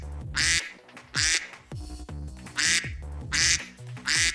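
A cartoonish duck quacks over and over in a narrated fantasy story, with loud bursts of quacking repeating in a steady rhythm over music-like tonal background.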